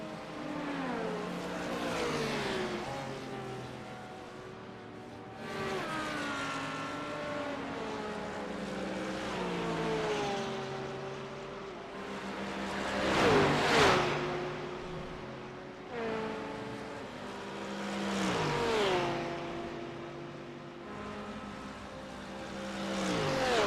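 LMP2 prototype race cars from the iRacing sim roar through Road America in a series of engine passes, each rising and falling in pitch as gears shift, layered and fairly loud with no voices.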